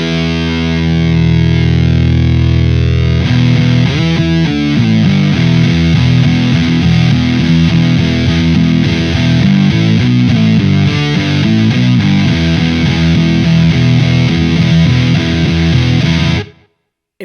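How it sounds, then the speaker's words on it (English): An electric guitar on its bridge humbucker is played hard on the low E string through an MXR Sub Machine fuzz pedal, giving a thick, loud, saturated fuzz that churns steadily before cutting off abruptly at the end. "If I go bridge pickup, humbucker, and just wail on a low E and bring the sub in here."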